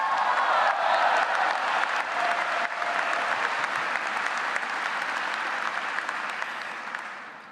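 Sustained audience applause greets the Duke MBA daytime graduation class speaker, a dense, even clatter of many hands filling the hall for several seconds before tapering off at the end.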